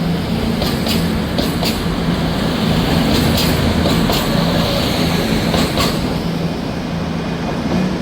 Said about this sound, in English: Departing out now is an LNER service on an ECS